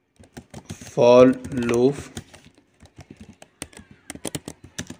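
Keys clatter on a computer keyboard while a printf statement for a C program is typed, a quick irregular run of light clicks that a man's spoken words briefly interrupt before the tapping picks up again.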